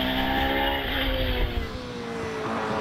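A hillclimb race car fitted with a 4 litre Judd V8 engine, a steady loud engine drone with tonal harmonics, slight pitch shifts as it runs up the course, heard at a distance without talk.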